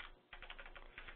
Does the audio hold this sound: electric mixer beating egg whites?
no